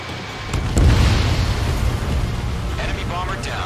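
A missile explosion downing an enemy bomber in the video game Ace Combat 7, a loud deep boom that swells and rolls on as a sustained rumble beneath jet engine roar, with radio chatter in the background.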